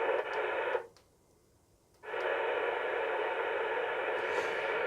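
Steady broadband hiss from a CB/HF band receiver tuned between 1.8 and 30 MHz with no station, loud and continuous, cutting out briefly for about a second before the noise returns just as strong.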